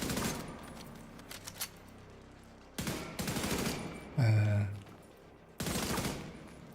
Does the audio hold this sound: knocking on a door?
no